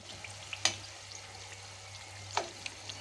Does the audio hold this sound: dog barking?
no